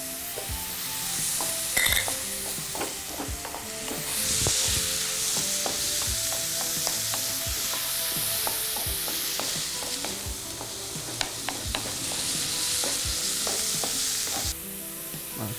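Carrots being stir-fried for a chicken ragout filling, with a steady loud sizzle and repeated scraping, clattering strokes of a spatula against the pan throughout, with no talk.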